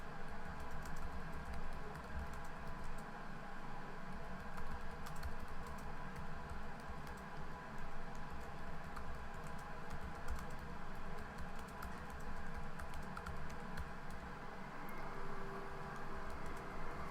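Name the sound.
typing on a computer keyboard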